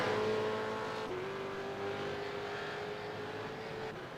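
A V8 Supercar race car powers through a turn at Barber Motorsports Park, its engine note holding a steady, tonal roar that shifts pitch slightly, loud and close, fading a little toward the end.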